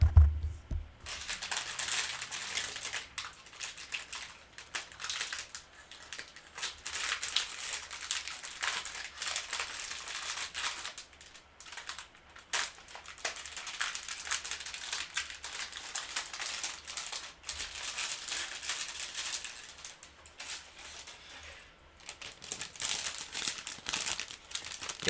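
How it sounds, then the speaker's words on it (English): Plastic bags holding R2-D2 and BB-8 model kit runners being cut and pulled open, a steady run of loud close crinkling and rustling that keeps going with brief pauses. "all these runners come in little plastic bags, and you just cut them open and get them out"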